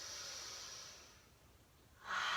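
Long, breathy open-mouth exhale during a yoga breathing exercise, a steady soft hiss that fades, then a sharper burst of breath near the end, close and alone.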